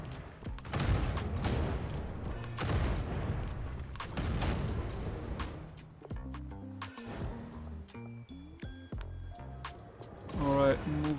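Troops fire muskets in a Toyotomi Hideyoshi strategy game, with dense crackling volleys and dull booms over the first several seconds, then sparser shots as game music with sustained tones takes over.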